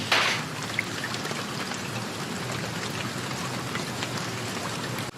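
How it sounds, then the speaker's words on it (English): Rain falls steadily in Manchester, a dense, even hiss of drops close by, continuous and unbroken with no voices. "It's raining in Manchester."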